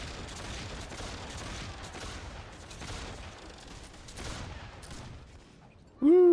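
Rapid gunfire in the online fantasy battle game Warhammer Online: Return of Reckoning, a dense rattle of shots in bursts throughout, then a sharp loud tonal effect at the very end.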